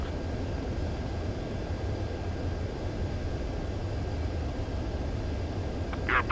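An aircraft on final approach to a runway in Ace Combat, a steady broadband engine roar holding level throughout, with a brief higher electronic blip near the end.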